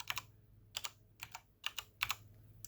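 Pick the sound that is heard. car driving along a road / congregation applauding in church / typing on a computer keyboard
typing on a computer keyboard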